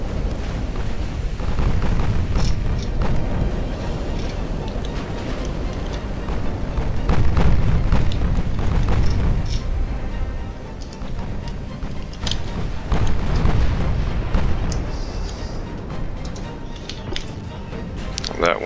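Warship main battery guns fire in the naval strategy game Ultimate Admiral Dreadnoughts, in a Tsushima battle. Heavy, overlapping rumbling booms roll on almost continuously, with louder swells of cannon fire throughout.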